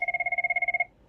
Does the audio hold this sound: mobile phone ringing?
yes